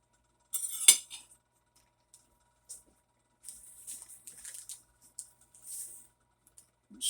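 Spatula scraping peanut butter and sugar mixture off a mixer, a series of short, light clinks and scrapes in sparse bursts separated by quiet gaps, close and fairly faint.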